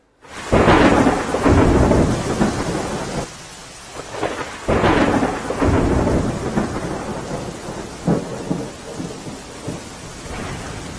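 Heavy rain pours steadily in Lakhtar taluka, Surendranagar, Gujarat, while loud rolling thunder rumbles in repeated bursts close by.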